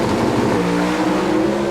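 Pro Stock drag race cars roaring down the strip at the 1995 NHRA Winston Select Finals in Pomona, a loud, steady high-revving engine drone with harmonic whine, continuous and close throughout.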